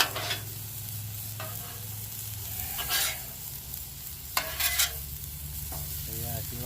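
Vegetables frying on a very hot, smoking griddle give a steady close sizzle, with bursts of scraping and stirring from a utensil and a brief clatter near the end.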